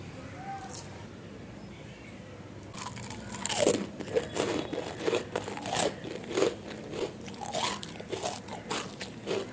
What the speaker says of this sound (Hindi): तोड़ने से भी माशाल्लाह से एकदम क्रिस्पी हैं जिस तरह से कुरकुरे होते हैं।